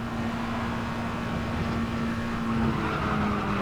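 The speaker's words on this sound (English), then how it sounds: "As I have another wipeout at the last" A race car in an F1 video game wipes out at the last turn, its tires skidding and squealing over a steady engine drone, loud and continuous with no talk.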